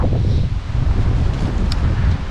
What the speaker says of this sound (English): is that wind cold?